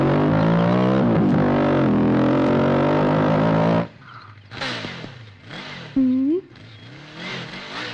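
A motor vehicle engine revs loudly and steadily for several seconds, then cuts out, leaving scattered voices and background sounds.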